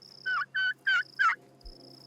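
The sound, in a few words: pastured poultry turkeys gobbling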